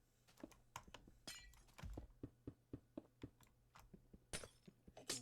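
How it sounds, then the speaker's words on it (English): Glass blocks breaking under a hoe in Minecraft, a quick run of short crisp clicks and shattering taps, close and evenly paced, with a couple of brighter crashes and no talk. "break glass with a hoe"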